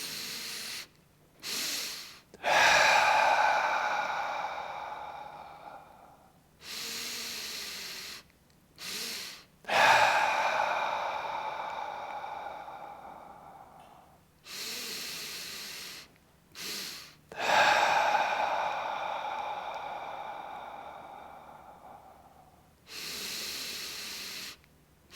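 Slow, deep breaths in and out through the mouth, each long airy exhale following a shorter inhale, repeating at a calm, unhurried pace, close and alone.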